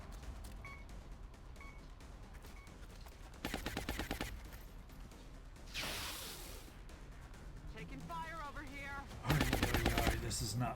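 Gunfire in the video game XCOM Enemy Within, two loud bursts of rapid automatic shots separated by a whooshing sweep and a short warbling electronic effect, over a steady low game background.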